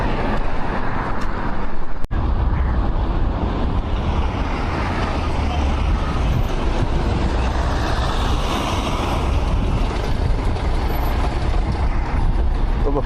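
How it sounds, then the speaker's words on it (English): A police van passes on a UK road with a loud, broad engine and road rumble that holds steady throughout, and a sharp click cuts in early on. No one speaks. "The police van just drove past."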